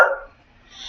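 Dog Lulu letting out a single short bark, close and fairly loud, then quiet.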